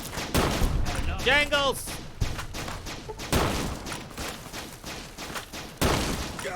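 Gunfire crackles in a Fallout: New Vegas firefight with Powder Gangers, several sharp shots and bursts spread across the stretch, loud and close, while someone talks and exclaims over them.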